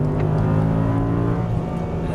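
Audi R8 engine pulling hard in third gear on a race track, a steady loud droning roar with strong low harmonics that holds without pause throughout.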